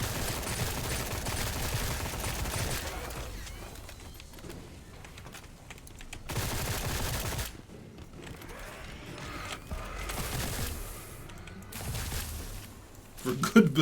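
Bursts of rapid gunfire in the game Sker Ritual, loud fusillades that come and go between quieter stretches with mechanical clanks, while someone talks over the shooting.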